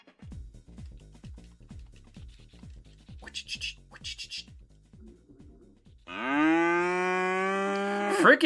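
A cow moos loudly in a long, drawn-out low bellow that rises near the end. Before it come rhythmic scratching and shuffling sounds, with no voices.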